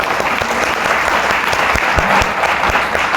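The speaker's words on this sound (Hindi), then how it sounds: "ताली मर्दों वाली बजाइए" Dense, continuous clapping from a large crowd fills a business seminar hall in Mughalsarai, steady and loud from start to finish with scattered sharper claps on top.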